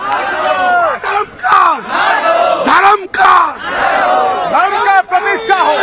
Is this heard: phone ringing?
no